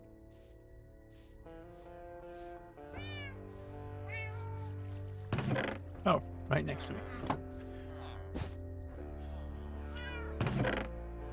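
Cats meow repeatedly in the Minecraft video game, short rising cries scattered among game music and sound effects, with a player talking over them.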